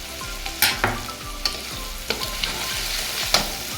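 Crushed nigella seeds and a green chili sizzling in hot oil, a steady frying crackle with sharp spattering pops and stirring scrapes at irregular intervals, close and fairly loud, no talk.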